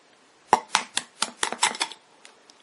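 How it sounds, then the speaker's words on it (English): An egg cracked open by hand, a series of short sharp taps and shell crunches close by, about seven quick transients over a second and a half, followed by faint small clicks. "So what I do is I just crack my egg"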